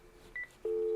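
A Panasonic KX-TG175C DECT 6 cordless phone handset sounds a short dialing beep, followed by a second steady tone that starts partway through and holds to the end, both clear and close.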